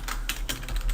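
Typing on a computer keyboard, a quick burst of several close key clicks in uneven rhythm, moderately loud, with no speech.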